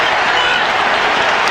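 A college basketball arena crowd at the Washington vs Minnesota game roars and applauds after a drawn foul, a dense, loud, continuous wash of cheering and clapping.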